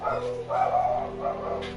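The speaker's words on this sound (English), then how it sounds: "Someone's walking past the house, so the dogs are gonna go insane." Several dogs bark and yip insistently at someone walking past the house, a steady run of close, loud barking with a droning hum beneath.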